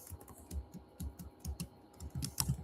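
Typing on a computer keyboard while coding, with irregular quick clusters of soft key clicks at close range, faint and alone without speech.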